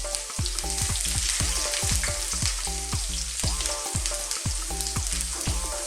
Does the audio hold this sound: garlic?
yes